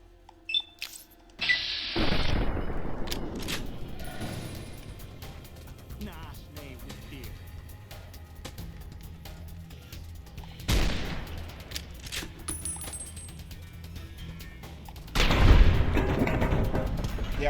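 Gunshots in Fallout: New Vegas crack out in scattered sharp bursts, a few loud reports spaced through a quieter stretch, with someone talking in between.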